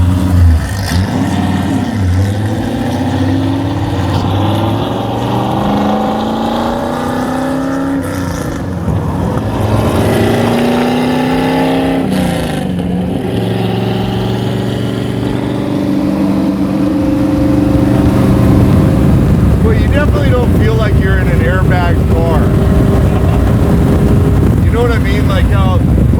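A 700HP big block V8 in a 1966 Ford Mustang, running a Holley ECU and nitrous, rumbles loudly from inside the car, rising and falling in pitch through shifts, with wind noise and people talking over it.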